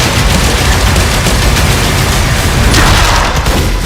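Dense, loud, sustained gunfire from the ridiculously powerful weapons of the shooter game Doom: The Dark Ages, a continuous barrage of booming shots and rapid bursts with no pauses.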